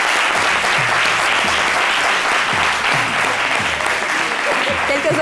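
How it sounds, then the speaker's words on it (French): An audience applauds a fashion collection, Roots by Moses by Style, with dense, sustained clapping throughout, while a voice talks over the applause. "Quelques ovations."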